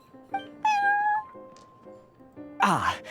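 A cat in the Genshin Impact video game gives several clear meows: a short one, a long drawn-out one, then a couple more, ending with a louder, harsher cry, all close and unaccompanied by talk.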